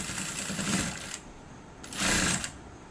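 A sewing machine runs a top stitch along a deep-neck blouse in two close bursts of fast, rattling stitches, separated by a short pause.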